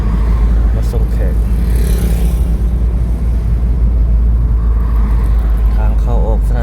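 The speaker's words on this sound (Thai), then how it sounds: "พาเบิ่งกัน สัญจรกัน ไปมาของรถในยามเช้าเนาะ" Morning road traffic of cars and motorcycles in Vientiane, near an airport entrance, rumbles steadily and loudly with engines passing close by and a constant low drone throughout.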